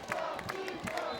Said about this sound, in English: an organized cheer coming from this side of the field